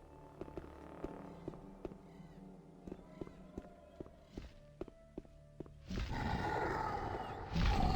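A demon in the video game Gothic 1 lets out a loud, rough, sustained roar that swells in the last two seconds, following a stretch of sharp footsteps and clicks.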